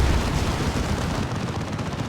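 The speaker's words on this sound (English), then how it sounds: "A good Demolisher Cannon shot though" A Demolisher Cannon fires in a Warhammer 40k Dawn of War 2 battle, a loud, dense roar of explosive blasts and rumbling gunfire that fills the whole moment.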